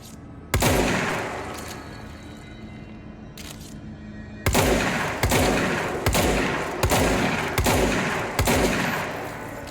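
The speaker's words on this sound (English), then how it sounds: "This is a shotgun." Shotgun blasts in the video game Control: after one early shot, five heavy booming reports fire at a steady, spaced rhythm, each loud and close with a short decaying tail, with no talking.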